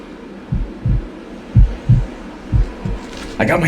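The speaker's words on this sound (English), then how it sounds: "Can you hear it beating? That's my heartbeat!" Heartbeat from the video game Dororo: six or seven deep, loud, thumping beats in an uneven lub-dub rhythm, with a brief brighter sound at the end.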